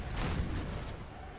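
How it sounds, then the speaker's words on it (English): Cannon barrage bombarding a fort gate in Napoleon: Total War, a burst of booming blasts at the start fading into a rumbling tail, fairly faint and with no talk over it. "Let's go ahead and use barrage to bombard the absolute shit out of that"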